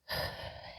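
A single long, audible inhale drawn in during a yoga session, breathy and close, beginning suddenly and holding steady for under a second.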